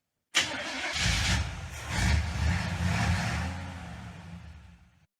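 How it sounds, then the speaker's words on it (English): A truck engine cranks and catches with a sudden start, then runs with a rough rumble that swells and settles before fading out, loud and close, with no voices. "let's start the truck and get into it"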